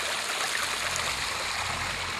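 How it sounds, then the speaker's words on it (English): Water flowing steadily over a big flat rock crossing on a woodland trail near an old rock quarry, a continuous close rushing stream with no voices. "the water flowing"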